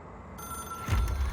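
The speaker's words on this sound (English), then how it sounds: "It is a phone." Hotline phone ringing in the video game Control, a short bright bell ring rising over a faint electronic hum, close and clear with no voices.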